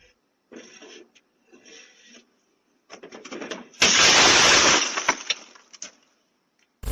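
A glass table shatters as an umbrella is pushed into the hole in its middle, a loud, sustained crash of breaking glass outdoors, preceded by a few softer knocks and rustles.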